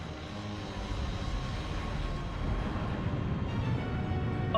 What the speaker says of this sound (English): Engines full reverse.